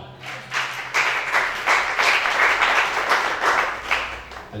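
A church congregation applauds, a sustained burst of clapping rising quickly and holding steady at a fairly loud level throughout.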